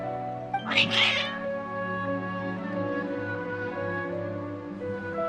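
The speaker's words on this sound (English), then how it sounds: "Your cats seem pretty worked up." Cats in the video game Genshin Impact let out a loud, agitated yowling meow near the start, over a sustained tonal music bed that carries on to the end.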